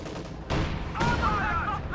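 A Maxim machine gun fires in a Reign 2 battle, giving sharp, loud bursts of gunfire and booming impacts that ring out close by in quick succession over about two seconds.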